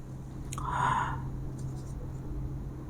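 Chalk or marker scratching on a board during a school math lesson on polynomials, one short burst of writing strokes close by against a steady background hum, with no talking.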